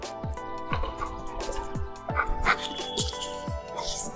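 A trained dog named Hugo whimpers while waiting for a treat: short, repeated high whines and yips recur about every half second, close and moderately loud against a quiet room.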